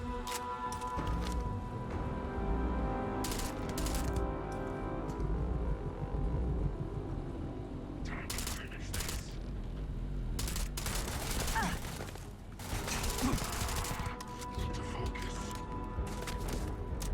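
Video game gunfire from a longer-range gun, a fairly loud sustained stretch of shots with rumbling bass and sharper bursts near the end, with a voice talking over part of it.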